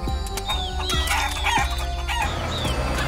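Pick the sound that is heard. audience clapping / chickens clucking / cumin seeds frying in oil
chickens clucking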